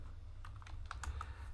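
Quick bursts of typing on a computer keyboard while entering a BGP router configuration, a short run of light, close key clicks with no voices.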